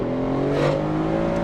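A Mercedes AMG GT S fitted with a Valvetronic Designs exhaust and free flow downpipes holds a loud, close, droning engine note that swells briefly in the middle, steady and aggressive with no talk.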